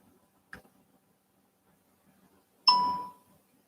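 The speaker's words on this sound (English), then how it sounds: "now I got a notification" A single bright notification ding rings out clearly and decays quickly, preceded by a faint short click in otherwise quiet surroundings.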